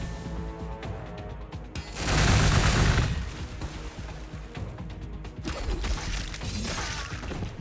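Rapid, crackling volleys of gunfire from a city in the strategy game Warhammer 40k Gladius, with a louder burst near the middle and mechanical clatter, no talking.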